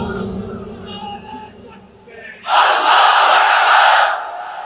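A large crowd at an open-air religious gathering in Sylhet roars the takbir slogan in unison, a loud, sustained burst of massed voices following a man's amplified speech over a PA system.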